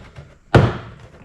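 A GMC Sierra or Chevrolet Silverado door panel clip pops loose under a panel popper tool, one sharp close thunk with a short rattling decay in a quiet workshop.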